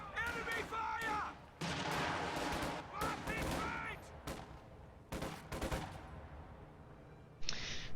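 A WWII strategy video game battle with dense bursts of gunfire, machine-gun rattle and booming artillery crashing almost continuously. Shouting voices are mixed into the din.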